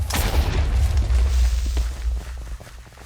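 Deep blocky explosion from TNT in the Minecraft video game, a loud low boom with a sharp crackling onset that rumbles on for nearly three seconds before tapering off.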